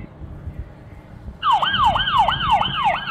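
A toy card reader plays a police car siren, a loud wailing electronic sweep that starts abruptly after faint background noise and repeats in regular up-and-down cycles.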